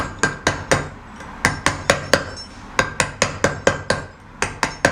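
Hammer blows drive a chisel into stone, knocking chips away in a steady run of about twenty sharp, ringing metallic strikes, close and loud, grouped in short bursts with brief pauses between them.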